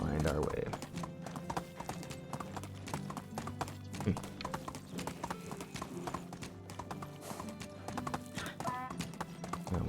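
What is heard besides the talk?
donkey hoofbeats on the road in video game Medieval Dynasty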